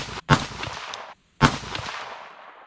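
Two sharp, loud rifle reports from a 22ARC rifle fitted with a muzzle brake, each a hard crack followed by a short decaying echo, spaced about a second apart outdoors.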